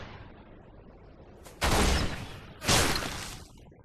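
Two loud, close gunshots in a shooter video game, each a sharp blast with a ringing tail about a second apart, over a low rumbling background.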